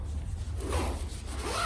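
A zipper is drawn closed around an Osprey Transporter 65L duffel with mesh near the track: one continuous close, scratchy zip lasting under two seconds, with no talking.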